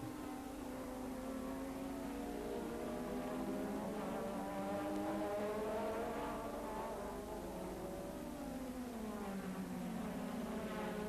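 Brabham Formula 1 race cars from 1984, loaded with fuel and running fast, scream continuously with high-pitched engine notes rising and falling as they pass, loud and steady throughout.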